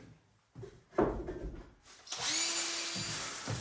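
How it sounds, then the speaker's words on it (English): A power drill bores holes into wood, birch in the work, after a few knocks and handling clatter, and the motor whines steadily and loudly at close range with a brief pause near the end. "Let's get these drilled."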